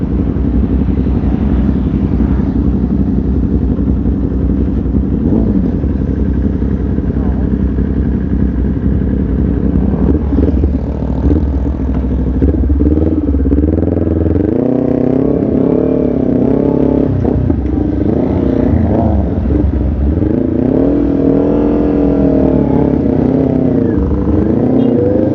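A motorcycle ridden at a store opening, its engine droning loud and steady throughout, with rising and falling revs as it accelerates and slows, close to the listener, no talk.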